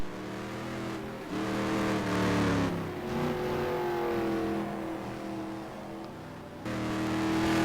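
GT1 race cars at the Buddh circuit on a damp track: engines rev and shift through gears with rising and falling whine, a loud continuous drone as cars accelerate past, no voices.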